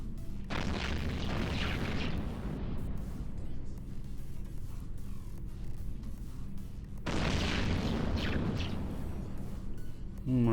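Heavy booming weapons fire in the space game EVE Online, two sustained rumbling barrages separated by a short quieter stretch, loud and continuous.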